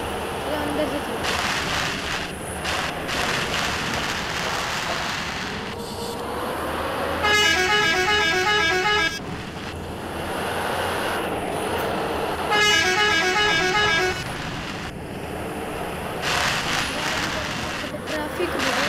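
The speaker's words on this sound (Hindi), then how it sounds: "ट्रैफिक बहुत है" Heavy road traffic with buses and cars rumbling close by, broken by two long, loud horn blasts and scattered shorter honks, with voices talking faintly underneath.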